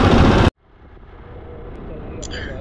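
Motorbike engine running hot: a loud burst cuts off abruptly, then a steady low engine rumble builds and holds, close to the listener.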